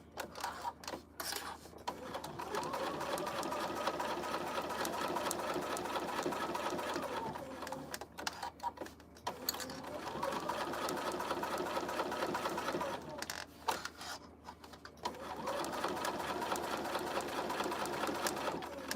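A quiet sewing machine stitches a headband in three long bursts of rapid clattering, separated by short pauses, steady and close throughout.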